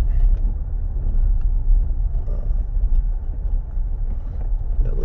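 A vehicle rumbles steadily along a bumpy campground road, with loud low-pitched road and engine noise and wind buffeting the microphone throughout, no voices.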